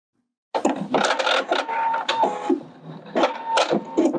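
A sewing machine stitches the shoulder seams of a blouse, running in loud, fast mechanical bursts with brief pauses between them, close up and with no talking.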